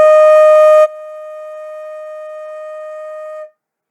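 Flute sounding a single sustained E flat note, steady and clear, louder at the start then held softer for several seconds before stopping, alone with no talking.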